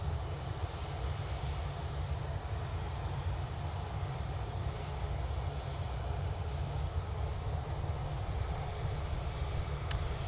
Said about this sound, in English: Aer Lingus A380 now landing.